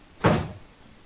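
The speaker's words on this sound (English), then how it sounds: "the door slam shut" A heavy door slams shut once with a loud, close thud and a brief rattling tail, then quiet room tone, set in a tabletop roleplaying game session.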